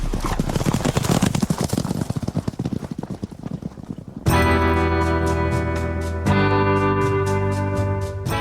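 Horse hooves clip-clop steadily from mounted riders crossing open valleys and grassland, a dense rhythmic clatter that gives way partway through to loud sustained music with stacked tones.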